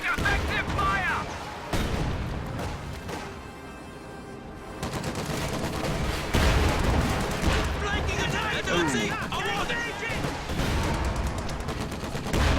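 Dense gunfire and artillery barrage rage in a World War II strategy game battle with Sherman tanks, continuous loud rattling shots and booms layered with shouted unit callouts.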